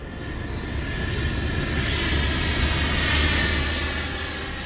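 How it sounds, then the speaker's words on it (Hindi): An Indian Air Force plane arrives at Ambala Air Force base, a broad, steady roar of aircraft engines that swells slightly and stays loud throughout, with no voices. "तभी भारतीय वायुसेना के विमान से राजनाथ अंबाला एयरफोर्स बेस पहुंचे।"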